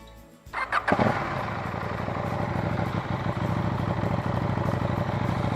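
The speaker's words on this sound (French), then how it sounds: "on va faire un petit essai du son pour comparer avec le pot d'origine" A KTM 790 motorcycle fitted with an Akrapovic exhaust fires up after a brief starter whir, blipping a few times before settling into a steady, loud, throbbing idle close by.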